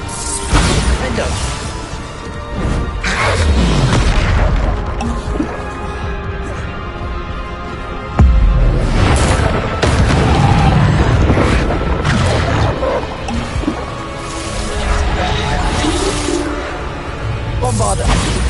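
Bombarda spell explosions in the Hogwarts Legacy video game, repeated heavy booms and crashes amid whooshing combat effects, loud and close, with a voice talking over the action.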